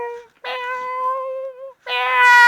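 A person imitates a cat meow with their voice, two drawn-out, tonal meows separated by a short gap, the second rising and brighter, close and clear with no background.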